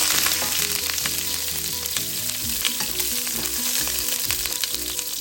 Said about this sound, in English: you need to add 2 tablespoons of oil, then 1/2 of onion slice,